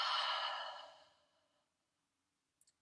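During yoga breathing practice for an Uddiyana Bandha hold, a single deep, airy exhale sounds close and soft, fading out over about a second and a half into near silence.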